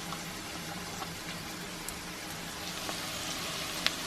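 Red pepper and diced tomato toppings cook in a pan for a vegan meal, giving a steady, soft, close crackling sizzle that holds evenly throughout with no talking.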